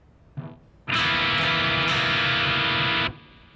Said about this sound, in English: Now we're going to play this chord where I'm going to play the note E on the 2nd fret of the D string.